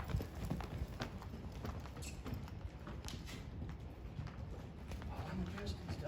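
A two-year-old filly named Ruby trots under a rider, her hooves giving a steady, faint clip-clop rhythm against a noisy outdoor background, with a voice speaking over the hoofbeats.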